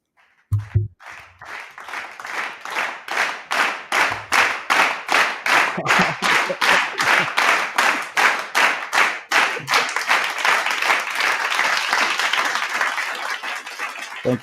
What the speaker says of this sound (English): All right, let's give him a warm round of applause here.